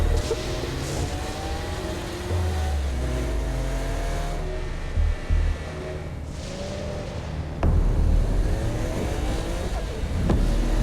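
A car drives through the video game Saints Row: Gat Out of Hell, its engine humming and revving with shifting pitch sweeps, a steady close drone broken by a few sharp bumps and a sudden jolt late on, with no voices.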